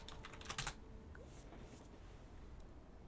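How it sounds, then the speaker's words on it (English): Fast typing on a computer keyboard comes as quick, faint clusters of key clicks that start in a burst, then thin to scattered taps, with no talk. "Quick typing is not my forte"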